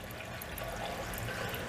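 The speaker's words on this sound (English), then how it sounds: "So that's a fan right there that's blowing, and it's actually blowing the bubbles." An aquarium fan blows bubbles through the water of a fish and crayfish tank, making a faint, steady bubbling and trickling wash with no breaks.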